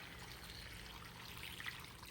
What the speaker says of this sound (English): cover this whole thing with water, and you want to fill this thing right up to the top